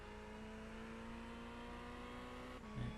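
Ferrari 488 GT3 Evo race car engine at Watkins Glen in the iRacing sim, a steady sustained drone holding a constant pitch, with a brief surge near the end.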